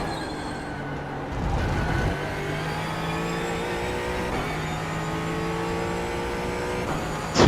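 A Ford Mustang race car engine in the iRacing simulator at Brands Hatch drones steadily, its pitch rising and falling through gear changes, with a sharp burst near the end.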